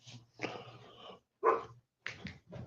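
Two dogs, the speaker's and his son's, bark and whimper at a door, wanting back in: several short, close yips and barks in quick bursts with gaps between them, no talk.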